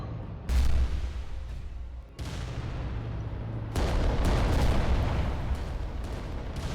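Titan weapons firing in Adeptus Titanicus, heavy booming shots and blasts with deep rumbling impacts, several loud bursts spaced a second or two apart over continuous battle noise.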